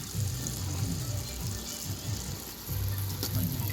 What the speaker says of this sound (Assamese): এনেকৈ মাংসখিনি দি লৰাই থাকিব লাগিব ধুনীয়াকৈ এনেকৈ লৰাই থাকিলে মাংসখিনি মিলি যাব